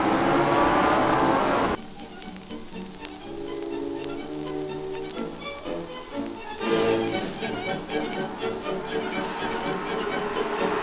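Race cars at Pukekohe roar down the back straight toward Shell Curve, a steady engine drone with rising and falling surges, while a commentator talks over it.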